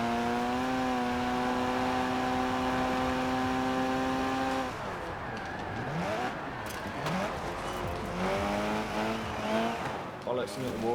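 Racing video game car with a steady high engine drone and rising harmonics, then a sharp break as it strikes the wall, followed by scraping, skidding and re-revving engine noise, loud and continuous.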